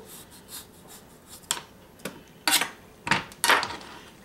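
A knife slices through a potato on a cutting board for Hasselback potatoes, giving a series of sharp, close knocks and scrapes that come faster toward the end, with no talking.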